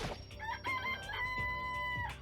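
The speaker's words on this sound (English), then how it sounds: "This place even has chickens, huh?" Chickens clucking and crowing in the video game Danganronpa, bright overlapping fowl calls over a steady game soundtrack, continuous for a couple of seconds.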